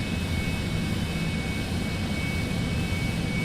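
Cessna Citation X jet engines at takeoff in a flight game: a steady, even roar of engine noise with a faint high whine running through it, continuous and unchanging throughout.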